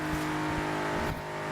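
A Mercedes-AMG GT in Forza Horizon 3 holds a loud, steady high-revving engine drone for a brief moment, close and continuous, with a slight dip near the end.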